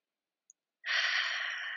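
One long, audible exhale during a gentle yoga forward fold, close and breathy, following a tiny faint click in otherwise silent surroundings.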